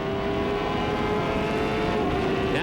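A CART Indy car with an Ilmore engine blasts down the back straight at Elkhart Lake, a steady, loud, sustained engine drone at high revs that holds throughout.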